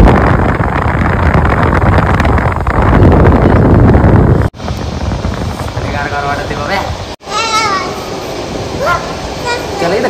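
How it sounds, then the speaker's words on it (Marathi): Strong wind rushes past a microphone from an open moving bus, a loud broadband roar that drops out abruptly twice, with faint whistling tones and brief honks over the buffeting. "तुम्हाला हवेचा आवाज येत असेल."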